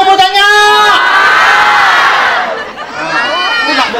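A crowd at a DJOSS campaign rally in Dusun Kepayang shouts and cheers loudly and close. Many voices rise into sustained yells and whoops, dip briefly, then swell again.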